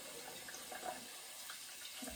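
Water runs from a tap with a shaving brush held under the stream, a soft steady splashing hiss that fades partway through.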